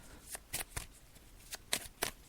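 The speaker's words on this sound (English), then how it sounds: "Now, I'm just going to shuffle the cards just to see what final messages they have to say." Tarot cards are shuffled by hand close up, producing a run of quick, uneven riffling and slapping bursts over a quiet room.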